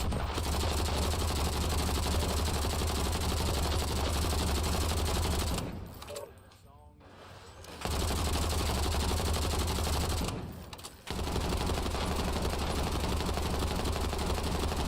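Automatic gunfire from a weapon in the Warzone video game, a dense, continuous stream of shots that stays loud for most of the stretch and breaks off twice into brief quiet gaps before resuming.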